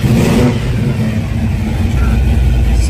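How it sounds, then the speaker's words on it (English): A muscle car engine fitted with Sniper EFI revs loudly and steadily up close, a rough mid-pitched roar that holds for several seconds while voices talk faintly underneath. "I wanted to do that before I started up because she's a salty sounding engine"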